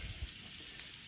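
Steaks sizzle on GrillGrates over a grill, making a close, continuous crackling hiss with a few louder pops, and nobody talks.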